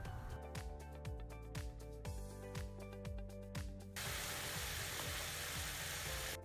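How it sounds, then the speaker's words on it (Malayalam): Squid pieces shallow frying in a pan for squid biriyani, with faint rhythmic clicking giving way to a steady, soft crackling sizzle. "അപ്പോൾ ഇനി നമുക്ക് ഓരോന്നായിട്ട് എടുത്ത് നമുക്കൊരു ഷാലോ ഫ്രൈ ചെയ്തെടുത്ത് നമുക്ക് മാറ്റി വയ്ക്കാം."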